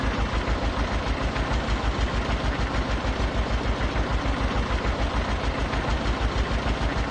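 Steady low rhythmic chug of a tractor engine idling in Farming Simulator 22, loud and continuous with an even pulsing beat and no talk.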